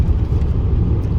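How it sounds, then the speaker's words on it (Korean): A naturally aspirated car pulls hard on a highway, producing a steady low engine and road rumble from inside the cabin with no voices. "자연흡기 차량인데도 불구하고 터보 차량 못지않게 잘 차고 나갑니다."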